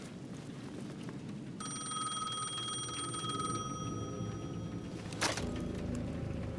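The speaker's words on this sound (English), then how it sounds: "The payphone at the edge of the plaza was ringing again." A payphone in the video game Alan Wake 2 rings with a steady, bright metallic tone for a few seconds over a low ambient rumble, followed by a brief click.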